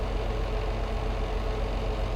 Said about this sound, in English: I can't believe this tractor's struggling for power.